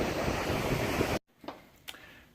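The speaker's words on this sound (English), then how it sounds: "it's always so relaxing to hear the breeze and the waves crashing against the sand" Ocean waves and breeze on a Myrtle Beach shore, a loud steady rush of surf and wind that cuts off abruptly, followed by quieter faint splashes.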